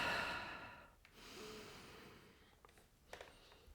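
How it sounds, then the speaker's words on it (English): Slow, quiet breathing during a slow-flow yoga session, a long soft exhale followed by gentler inhales and a brief sniff, close and faint with no talking. "Breathing here for just a second."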